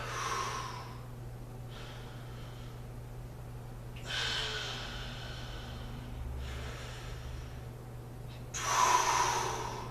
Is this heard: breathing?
yes